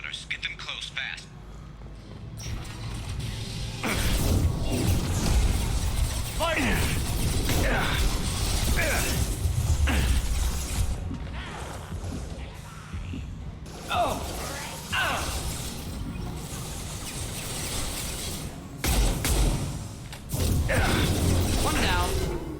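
Metal shutters grinding and ratcheting shut in Mass Effect Legendary Edition, a sustained mechanical clatter with repeated clanks over several seconds, loud and close, with game voices and effects mixed in.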